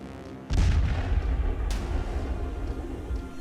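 Explosions from a suicide bomber attack at a police headquarters in Peshawar: a heavy, deep boom breaks out suddenly, followed by a sustained rumbling roar and a second sharp blast, loud and distant-sounding.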